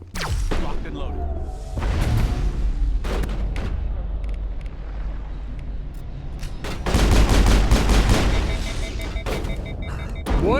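Weapon fire in the video game Mass Effect comes in dense bursts of loud, rapid shots with booming impacts, separated by quieter stretches of game ambience.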